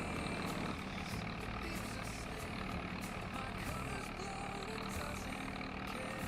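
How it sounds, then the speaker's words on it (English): A small 46-horsepower Massey Ferguson tractor engine runs steadily nearby, a continuous low diesel drone and rumble with an even, unbroken level. "It's quite a nice little Massey Ferguson tractor."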